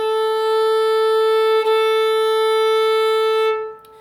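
A single open A string on a violin, bowed steadily and held for roughly three and a half seconds before fading, close and fairly loud, with a brief bow change near the middle and no voices.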